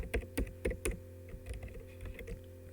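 Keys clack on a computer keyboard while someone types a line of C code, several sharp clustered strokes up front thinning into lighter, quicker taps, close and fairly quiet with no talking.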